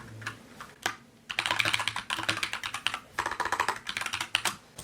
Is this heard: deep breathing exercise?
no